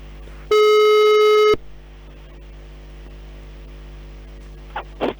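A single telephone ringing tone sounds loud and steady for about a second during an outgoing call from Kiss FM radio studio. Then a quiet line hum follows with a few faint clicks at the end.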